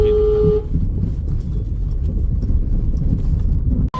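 A hired car drives along a road with a steady low engine and tyre rumble from inside, a short horn toot at the start, and the drone continuing evenly until a brief cut near the end.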